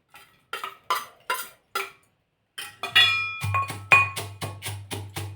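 Fried edible gum is pounded in a mortar and pestle, first with a few evenly spaced knocks, then with a quicker, heavier run of clinking metallic strikes that ring slightly, close up and with no talking.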